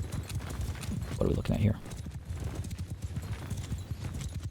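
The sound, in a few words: cavalry horses moving in Mount & Blade II: Bannerlord video game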